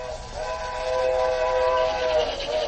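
Train from around 1919, its steady rumble with a sustained tonal whistle-like drone, heard moderately close in an old archival recording.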